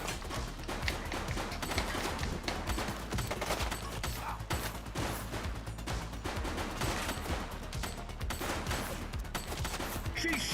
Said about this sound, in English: She's shooting!